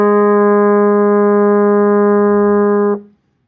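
A trombone holds a single sustained A flat in third position, a steady, rich brass tone lasting about three seconds before cutting off cleanly, played close and alone.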